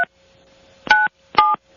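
Three telephone keypad dialing tones sound as short, clean beeps in quick succession, the first clipped at the start and the last two longer, over a faint steady hum.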